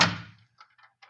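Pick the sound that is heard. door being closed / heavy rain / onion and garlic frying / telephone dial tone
door being closed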